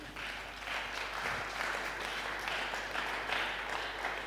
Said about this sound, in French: Est-ce que quelqu'un peut acclamer?